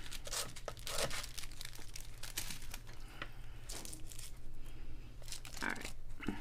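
Scissors snipping craft material that has been glued down, a run of crisp irregular cuts and crinkles close up, with faint handling noise between them.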